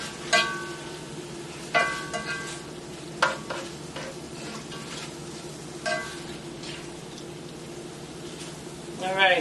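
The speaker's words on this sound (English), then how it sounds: "I'm adding the chicken back to my pan. And just gonna mix everything in real well." Chicken stirred back into a hot pan for chicken tortillas, a steady frying sizzle with intermittent scraping stirs and utensil clinks close by, a voice talking over part of it.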